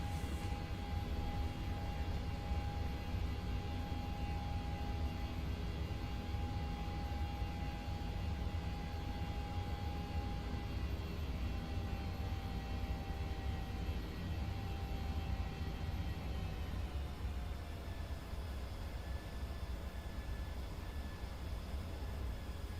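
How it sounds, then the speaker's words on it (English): Boeing 737-8 jet engines from the PMDG flight simulator drone steadily and loudly throughout, with a constant low roar and a sustained whine on top, no voices. "Love the sound of these engines."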